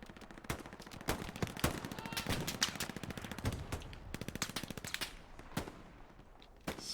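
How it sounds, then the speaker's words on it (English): Video game machine gun fire sounds as dense, rapid bursts of shots, loud and sustained over a continuous battlefield din, with occasional heavier impacts. "Some machine gun out of the spawn, giving some trouble"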